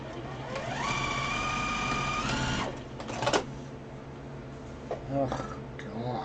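A sewing machine stitching a quilt runs steadily for a couple of seconds, then stops, followed by a sharp clunk and some quieter handling noises.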